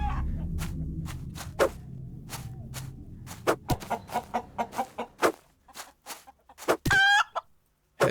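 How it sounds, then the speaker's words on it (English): A chicken in the video game Lost Isle clucks in a run of sharp, separate calls, close and loud over a low background rumble, ending in a louder squawk. "Oh, there's a chicken."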